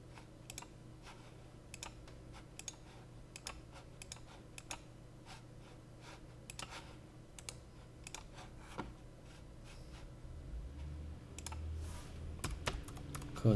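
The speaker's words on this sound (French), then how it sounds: "Là je tape code." Keys tapped on a computer keyboard while a code is entered in electrical design software, steady irregular clicks in a quiet room, with a low hum swelling near the end.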